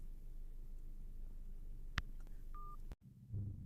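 A phone gives a single sharp click and a short electronic beep as a call is answered. Both sounds are quiet against a faint background hum, and a brief dropout follows.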